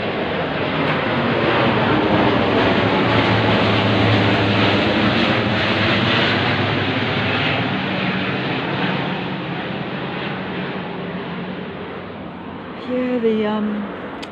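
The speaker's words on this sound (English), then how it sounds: "There is a plane going over, I think." A plane passing overhead makes a loud broad roar that swells and then slowly fades, with a voice briefly heard near the end.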